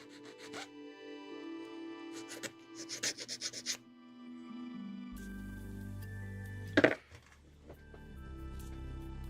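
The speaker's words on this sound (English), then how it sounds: "Sand it a bit." Part of a Bandai 1/72 VF-27β Lucifer Valkyrie Normal Type plastic model kit being sanded by hand, with a short run of quick, light rubbing strokes over faint background music.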